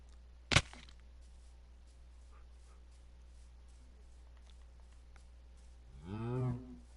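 A cow in a PS4 video game moos once near the end, a loud, drawn-out low call. It follows a sharp, short hit near the start over a quiet, steady background.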